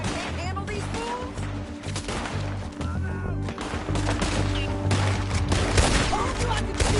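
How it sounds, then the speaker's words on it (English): Gunfire in the Western video game Red Dead Redemption, rapid overlapping shots and ricochets in a sustained firefight, loud and dense throughout, with voices occasionally mixed in. "Told you I could shoot a gun"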